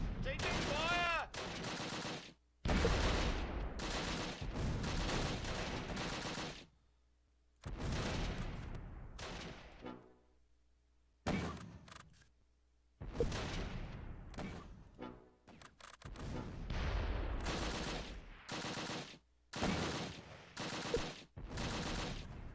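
Gunfire in the wartime strategy game Close Combat: Last Stand Arnhem comes in loud bursts of rifle and machine-gun shots separated by brief silences, mixed with clipped shouted voices.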